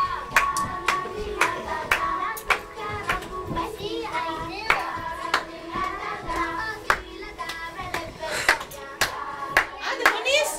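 Hand clapping with scattered sharp claps and children's voices at a Greek Independence Day celebration, steady and fairly close, mixed with crowd chatter and shouts.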